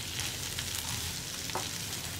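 Chicken fries in melting butter on a tawa, a continuous close sizzle and crackle with a faint stir or scrape of a spoon partway through.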